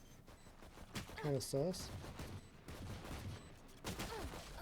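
Pistol shots ring out in a Valorant match during a collegiate esports round, several sharp cracks scattered among game effects while a caster talks over them.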